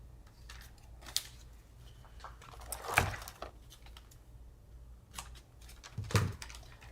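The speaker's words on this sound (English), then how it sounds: "I just cut the tape" Tape is snipped during a Cricut foiling craft: faint, quick, close clicks and crisp snips scattered over several seconds, with a couple of louder cuts standing out, no talking.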